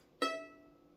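A short, quiet violin note on the E string sounds briefly with a quick attack, then tapers away within a second.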